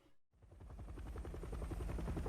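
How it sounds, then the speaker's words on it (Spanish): A helicopter arrives in Resident Evil 7, its rotor thumping in a fast steady chop that swells in from near silence and stays loud and close. "Ahí viene el helicóptero."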